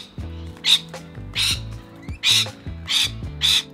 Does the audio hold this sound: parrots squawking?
yes